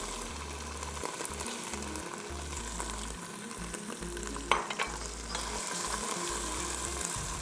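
Chicken frying in a pan with softened onion and ginger-garlic paste, a steady close sizzle with stirring scrapes and one sharp clatter midway, no talking.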